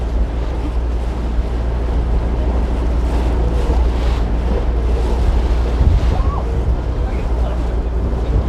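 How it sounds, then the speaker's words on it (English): Water sloshing and splashing against a boat during a Walt Disney World Magic Kingdom boat ride, a steady rushing wash with wind buffeting the microphone and occasional louder splashes close by. "This water is splashing up onto my face as I'm talking."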